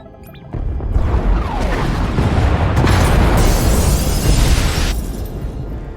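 Pod bays in the Star Wars: The Old Republic video game blow up in a loud, close explosion that becomes a sustained roaring, crashing rumble for several seconds before easing slightly.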